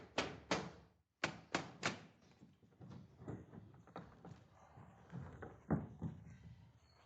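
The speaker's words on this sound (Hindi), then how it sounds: "ऐसी भारी दस्तक दरवाजे पर" Heavy knocking on a door comes in sharp, loud close blows, first in quick pairs and then as a more scattered series, with brief pauses between them.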